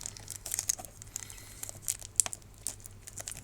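Plastic packaging of Magic: The Gathering card sleeves from a Gruul Stompy 2022 Challenger Deck being opened by hand, with close, quiet crinkling and tearing in irregular bursts and sharp little crackles scattered throughout.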